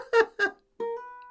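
A ukulele grace note slides up into the 2nd fret, followed by a single ringing note; two short plucked attempts come first, then the sustained tone decays alone.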